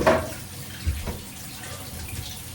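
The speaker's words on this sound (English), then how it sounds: "let's see what we experience as we go into a cold shower in the morning" A cold shower runs steadily in a bathroom, a continuous hiss of spraying water that starts with a louder splash and then settles into an even, close rush.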